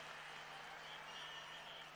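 A passionate crowd fills a football stadium in Zagreb, a steady dense roar of cheering and noise with no breaks, heard from a distance under a broadcast.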